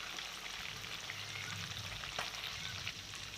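Chicken pieces fry in a pan with a constant close sizzle and crackle, with occasional pops and stirring clinks.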